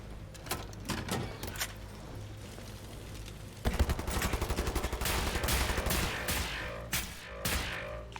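Rapid gunfire rings out in the shooter Wolfenstein: The New Order, first scattered single shots, then dense bursts of automatic fire with sharp echoing reports, loud and close, no voices.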